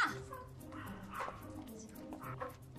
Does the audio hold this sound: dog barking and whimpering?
yes